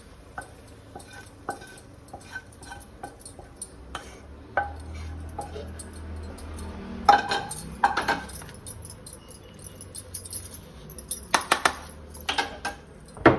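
Cooked pasta scraped and tipped from a pan into a bowl on a home stove, with light metallic clinks and scrapes of a utensil against cookware, sparse taps early then a denser cluster of clatters toward the end, fairly quiet and close.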